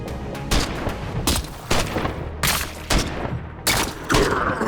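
Gunfire in Every Day We Fight, a video game: seven sharp, loud shots come in a rough rhythm about every half second, each with a short booming tail.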